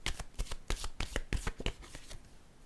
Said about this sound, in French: Je vais piger une carte de mon tarot psychique.